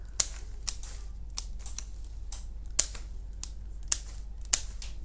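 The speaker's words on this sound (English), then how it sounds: "I'm going to cut it down first into slightly smaller pieces so it's a bit more manageable." Garden foliage is snipped into smaller pieces with sharp, irregular clicks and snaps, scattered crisp cuts over a quiet low hum, close and isolated, without talk.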